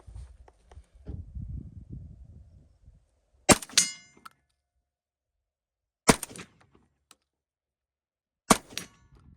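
A Rhodesian Browning A5 shotgun fires cheap double-aught buckshot at a steel target 50 yards away: three loud, sharp blasts spaced a few seconds apart, each followed by a brief metallic ring, after some quiet shuffling sounds.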